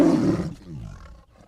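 A tiger gives one loud, short, growling roar that opens strongly and then fades into a rough, rumbling tail.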